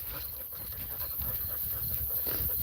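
Lily, a rescue dog, pants steadily and rapidly up close, with quick breathy rasps running continuously and no voices over them.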